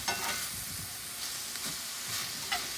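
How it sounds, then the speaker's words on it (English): Peppers and chorizo sausage sizzle steadily in a pan, a bright continuous crackle with occasional louder pops and scraping stirs. "I have the peppers and sausage going"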